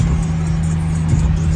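A car engine revs hard at a city car meet, a loud steady mid-pitched roar held close and continuous through the short moment.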